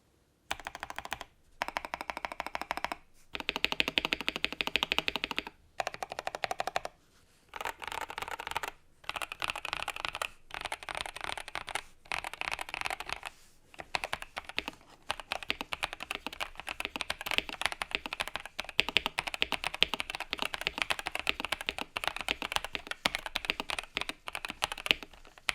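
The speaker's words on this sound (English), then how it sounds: "After a quick sound test, I'll tell you how our giveaways work" Typing on a KBD67 Lite r2 keyboard fitted with Gazzew linear Thock switches: dense, rapid keystroke runs broken by brief silent gaps, close and crisp, with no talking.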